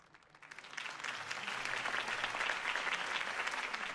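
A crowd in the video game Batman: The Telltale Series breaks into sustained applause that swells quickly and holds steady, a dense wash of clapping heard from a distance.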